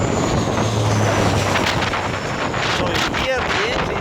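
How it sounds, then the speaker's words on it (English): A propeller aircraft's engine drones on a landing approach, the pitch shifting as the propeller speed changes, heavily buffeted by wind noise on the microphone and continuous throughout. "so he's managing the propeller speed to change the thrust"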